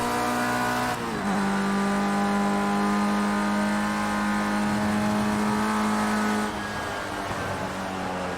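Race car engine in Project Cars 2 roars steadily at high revs while accelerating out of a corner, the pitch holding and briefly dipping near the end, loud and alone with no talk.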